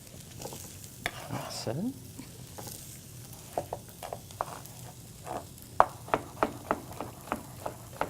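Shallots sauté in a pan for chilled zucchini soup, a soft steady sizzle under a series of sharp scraping stirs and taps from a utensil, with a brief spoken remark early on.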